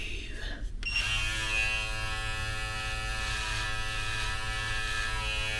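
Brio Beardscape Pro beard and hair trimmer running without its guard for a close shave, a steady, loud electric buzz with a strong hum that starts after a short click and holds without a break.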